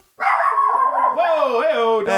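A dog barking and yelping loudly up close in a drawn-out, whining bark that fills the short moment.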